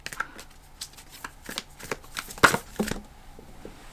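Tarot cards being shuffled by hand during a reading, soft irregular riffling and flicking close up, with one sharper slap near the middle, quiet and without talk.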